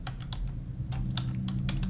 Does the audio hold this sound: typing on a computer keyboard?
yes